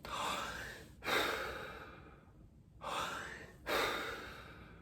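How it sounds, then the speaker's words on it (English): Slow breaths drawn in and then pushed out through pursed lips as a breathing technique, a few long airy rushes of breath with soft gaps between them, close and quiet. "slow down the exhale, regulate the speed of the exhale by pursing the lips"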